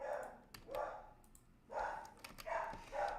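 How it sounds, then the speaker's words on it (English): A dog barking repeatedly at roofers working on a house, bursts of muffled, somewhat distant barks in an irregular series. "my dog is going nuts"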